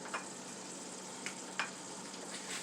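Turkey meatballs with oregano cooking in a pan, giving a steady, faint sizzle throughout with a few brief crackles and pops, no talking.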